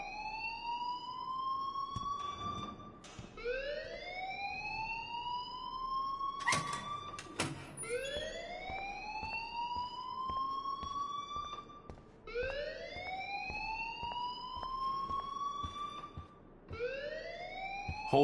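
A fire alarm in the video game Life Is Strange sounds as a repeated rising siren wail that loops steadily and loudly, with a few brief knocks between cycles and no talk.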